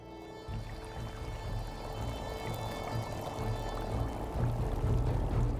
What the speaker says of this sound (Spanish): El agua termal brota desde niveles muy profundos de la Tierra